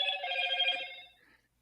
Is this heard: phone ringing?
yes